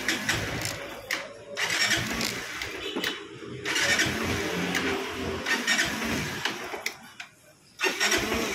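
A car engine cranks and catches right after a fuel pump replacement, then runs on steadily at close range with brief dips and surges in revving, with no talk over it.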